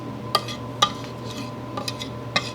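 A spoon stirs peaches in a metal pot, giving a few sharp clinks against the side over a low steady background, irregular and close.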